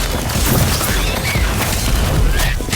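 A Bombastic bomb spell from Harry Potter: Magic Awakened bursts loudly, a heavy booming crash that fills the moment alone with no voices.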